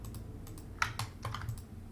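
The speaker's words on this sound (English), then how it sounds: "So I'm just hitting Control" Keys on a computer keyboard are pressed during a Maya XGen grooming session, giving several soft, close clicks with one sharper tap near the middle and no talking.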